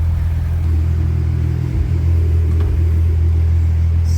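A Mk3 VW GTI VR6 with a coolant problem, driven after sitting parked a long time, gives a loud, steady low engine rumble heard from close by with faint road noise and a brief dip midway.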